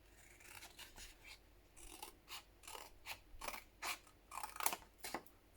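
Scissors snipping through paper for a paper-craft journal project: a steady series of crisp, close cuts, roughly a dozen strokes in a loose rhythm, with no talking.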